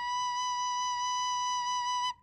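A single sustained B note played on a woodwind, a pure, steady whistle-like tone held for about two seconds at moderate volume before stopping cleanly, with no talking.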